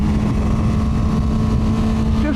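A QJMotor SRK 921 four-cylinder Chinese naked motorcycle engine runs under load on the road with irregular fueling, heard as a loud, continuous drone under heavy wind rush.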